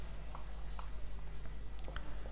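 Chalk or marker scratches out an equation on a board in short taps and strokes, close and steady over a low electrical hum.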